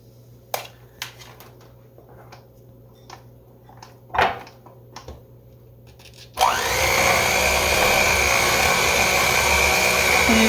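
An electric mixer blending raisin cake batter in a bowl starts abruptly after a few faint knocks and handling sounds, then runs loud and steady with a continuous whirring drone to the end.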